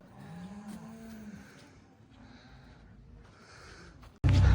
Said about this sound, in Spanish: Hay muchas vacas, vinieron muchos camiones.